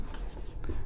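Pen or marker scratching out figures during a Class 10 maths lesson on triangle sides and circle areas, a short continuous rubbing stroke close to the microphone over a low background hum.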